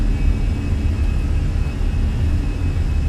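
Fenix A320 airliner engines at takeoff power in a flight simulator make a loud, dense, constant roar with a deep rumble and a thin high whine above it.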